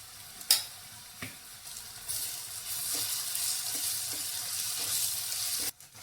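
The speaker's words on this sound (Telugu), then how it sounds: "మనం వేసుకున్న వెజిటేబుల్స్ అయితే వేగిపోయి దాంట్లోకి అల్లం వెల్లుల్లి పేస్ట్ అయితే వేసుకుందాం" Vegetables sizzle and fry in a pan with ginger garlic paste, a steady crackling hiss broken by a few sharp stirring scrapes and clatters, close and moderately loud with no voices.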